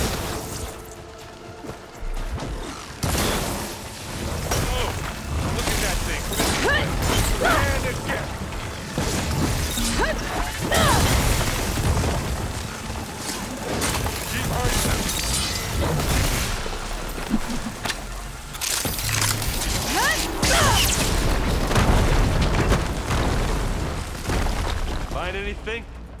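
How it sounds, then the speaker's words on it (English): Heavy booms, crashes and explosions roll almost without pause in a Horizon Forbidden West battle with supporting fire, loud and dense, with voices talking over the chaos at times. "Looks like Zoe's giving us some supporting fire"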